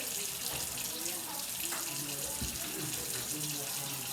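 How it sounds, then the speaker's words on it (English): Running water splashes steadily from a tap as cans are quickly rinsed in a kitchen sink. A continuous, fairly soft gushing runs throughout with faint clinks of metal, and no talk is heard. "So I just give it a quick rinse."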